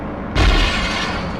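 In the game Ghost Recon, a sudden loud explosion booms close by, followed by a rumbling, crackling tail that lingers and slowly fades.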